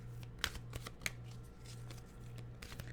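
Oracle cards shuffled by hand before drawing an animal card, a quick run of crisp riffling slaps and soft shuffles, close and fairly quiet over a steady low hum.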